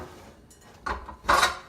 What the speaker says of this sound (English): I think I'm just going to put this in my mixer bowl